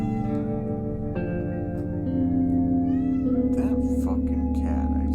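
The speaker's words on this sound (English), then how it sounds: "That fucking cat, I tell you." A cat in Zero Escape: Virtue's Last Reward meowing in long drawn-out wails over steady game music, close and clear, with a few brief noisy bursts toward the end.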